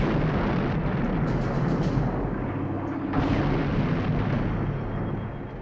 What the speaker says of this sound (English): Mr. Spock, we're being fired upon.